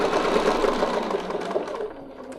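A sewing machine stitches steadily around a quilting template, its rapid even needle chatter loud and continuous, then easing slightly toward the end.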